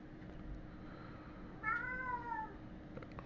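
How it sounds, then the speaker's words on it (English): A pet cat meows once, a single drawn-out call with a falling tail, moderately close, over a steady background hum with no talking. "My cat's meowing."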